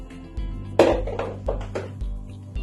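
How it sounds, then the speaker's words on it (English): A spatula scrapes leftover oil from containers while making carrot soap, giving a few soft clinks and scrapes against the container, close and quiet with no talk. "I use my spatulas to make sure all my oil is out"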